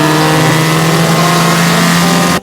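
A 2002 Saturn SL2 accelerates hard on a closed road course, its engine droning loud and close with a steady rising tone, then cutting off abruptly.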